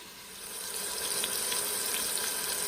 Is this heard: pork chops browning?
yes